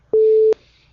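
A steady telephone tone from another phone on the line, one sustained beep lasting about four tenths of a second, clear and fairly loud over a faint low hum, with no talking.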